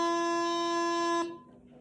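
A wind instrument sustains a single clear note D for just over a second, then the note stops and a faint ring fades out.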